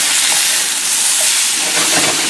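Potatoes sizzling in a hot skillet after a toss, a loud, close, dense hissing sizzle that holds steady throughout.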